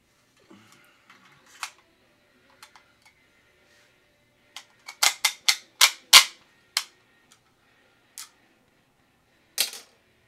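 300 AAC Blackout rounds are pushed from standard GI stripper clips into an AR-15 magazine, making sharp metallic clicks and snaps that come scattered at first and then in a quick rapid cluster, close by with no talk.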